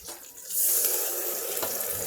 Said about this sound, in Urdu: تھوڑا سا پانی ڈالیں گے